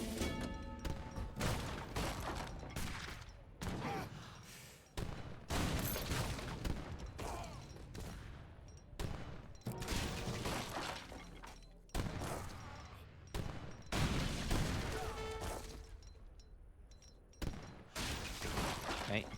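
Napoleon cannons in Age of Empires III fire in a chaotic battle, repeated sharp booming volleys and crashes at irregular intervals over a busy din of game effects.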